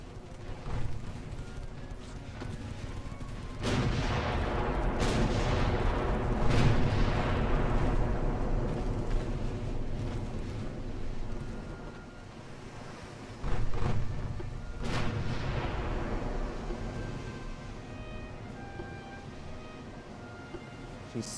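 Naval main-gun fire with HE shells in Ultimate Admiral: Dreadnoughts, 1890-era warships: several heavy booming blasts over a continuous low rumble, loud and spaced a few seconds apart, no talking.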